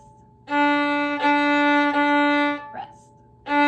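Bowed open D string on a bowed string instrument, a steady sustained tone drawn in three long strokes with brief breaks between them, then a short scratchy noise and the start of another stroke.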